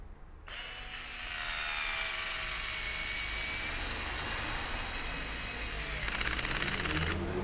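A Parkside PSSA 4 B2 cordless screwdriver drives a screw, a steady high motor whine running several seconds at close range, ending with a rapid ratcheting clatter as the clutch slips.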